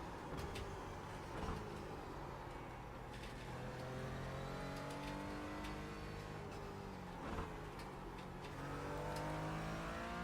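A race car engine revs and accelerates on a track, with gear changes sweeping the pitch upward repeatedly over a steady, fairly distant roar, no talk.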